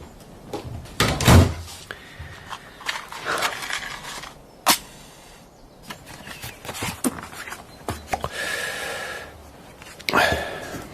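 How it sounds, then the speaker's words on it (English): A door is shut in a quiet room, with a sharp knock-like clunk standing out among scattered bumps, shuffles and brief breathy sounds, without clear talk. "Close the door behind you."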